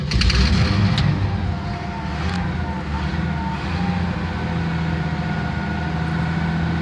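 A 1971 Chevy C10 truck engine idles and revs after sitting unused for a while, a rough, loud, continuous rumble with rising and falling throttle, heard up close.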